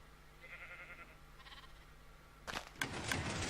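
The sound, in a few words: sheep bleating in Minecraft video game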